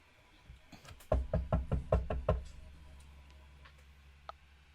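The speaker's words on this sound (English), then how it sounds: "Valkyrie's gonna knock on the door." About seven fairly loud knocks on a door land in a steady rhythm, followed by quieter stillness with a faint tick near the end and no talking.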